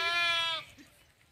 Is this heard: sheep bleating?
yes